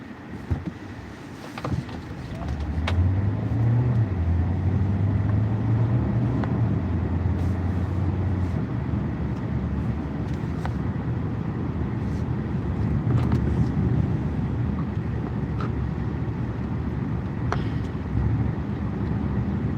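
From inside a moving car comes a steady low rumble of road and engine noise, building after a quieter start and holding with slight swells, broken by a few faint clicks.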